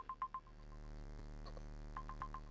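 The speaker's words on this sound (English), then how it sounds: "Oh, a timer's going off on my phone." A phone timer alarm goes off during an Atari 2600 Crystal Castles session, three quick beeps at the start and another cluster of short beeps later, faint over a constant low hum of game audio.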